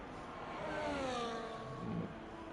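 A McLaren race car in a racing video game crosses the finish line at Spain, its engine a steady, fairly loud whine with rising and falling pitch that carries on throughout with no pause.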